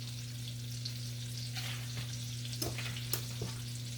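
Scotch bonnet pepper frying in a pan gives a faint, steady sizzle over a constant low electrical hum, with a few soft clicks and scrapes near the end.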